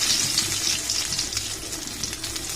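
Dried red chilies fry in hot oil in a pan, a steady close crackling sizzle with fine popping bursts throughout, no talking.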